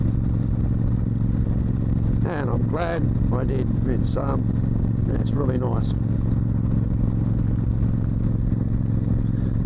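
Steady motorcycle engine drone on a dusk ride, a continuous low rumble of riding under wind, with someone talking briefly over it partway through.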